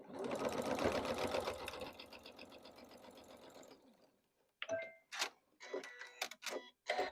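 A sewing machine stitches quilt block pieces for a strawberry block with a rapid mechanical chatter that slows and fades. Then comes a pause, followed by scattered clicks and short bursts of handling noise.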